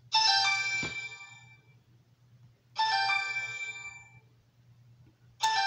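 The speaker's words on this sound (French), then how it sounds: "le téléphone n'arrête pas de m'embêter" A telephone rings in repeated electronic chime bursts, each about two seconds long with a pause between, loud and close against a low steady hum.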